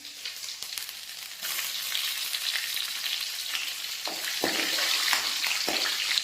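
Ginger garlic paste and green chilies sizzle in a frying pan of hot oil, a steady close hiss that swells louder partway through, broken by a few sharp pops and stirring scrapes near the end.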